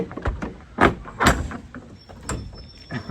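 A broken food truck door is handled and pulled open, giving several loud knocks, scrapes and rattling bangs at irregular intervals, close by with no voices.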